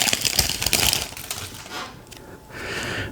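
A Panini WWE trading card pack is torn and crinkled open with some effort. The close-up rustling and crackling of the foil wrapper comes in quick bursts and then eases into a softer rustle, with no talk.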